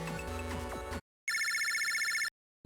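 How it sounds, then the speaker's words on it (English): A phone call ringtone from the Mega Man Battle Network 2 video game: a loud, bright electronic ring with a pulsing rhythm, sounding alone in one steady burst of about a second after a stretch of game music. "Lan, looks like a phone call for you."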